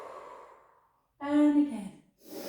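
A close, audible exhale during a slow pilates posture exercise, a soft breathy release that fades out, followed by a short vocal sound.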